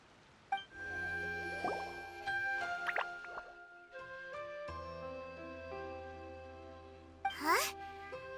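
A water droplet drips and plops in a video game cutscene, with several distinct liquid drip sounds set against sustained musical tones, ending in a brighter splash near the close.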